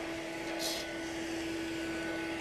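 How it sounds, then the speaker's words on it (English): A small cordless vacuum cleaner runs over a dirty couch, giving off a steady, even motor whine with a brief rise in the airflow rush partway through. "All right, so we got now a little vacuum here. Let's see how well we can clean the couch."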